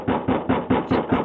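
Knocking on an expensive front door at a house in New Jersey, six heavy evenly spaced raps in quick succession, loud and close, with no voices.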